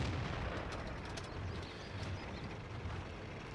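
Artillery fire and explosions from the World of Tanks battle game, a dense continuous rumble of distant blasts and booms rolling on without a break, with no voices.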